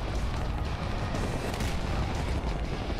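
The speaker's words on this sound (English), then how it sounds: "the cannon just goes straight through biomechanoids now" Cannon fire in the shooter game Serious Sam 4, a dense, loud barrage of booming blasts and rumbling impacts running continuously for about three seconds with no talk.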